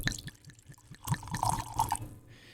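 Don Abraham añejo tequila pours into a glass in a short trickle with splashing drips, followed by a brief liquid gurgle before it stops.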